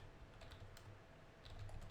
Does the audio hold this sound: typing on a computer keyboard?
yes